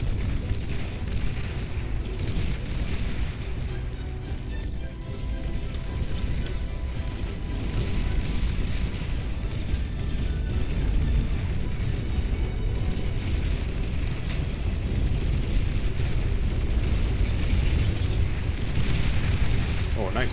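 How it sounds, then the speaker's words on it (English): Sustained rumbling explosions from a bombing run in the Beyond All Reason strategy game, a dense, loud, continuous barrage of booms throughout, with a voice talking over it. "nice bombing run"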